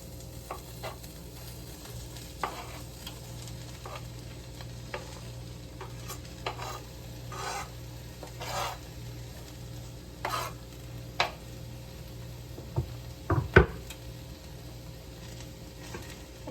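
Zucchini and garlic sizzle in a pan with caramelized onions, a steady soft frying hiss broken by repeated scrapes and clacks of stirring, with a few louder knocks near the end.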